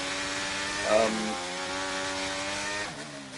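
Race car engine from a racing video game, a steady high drone with layered harmonics that swells briefly as it revs and shifts up, with a slight drop near the end.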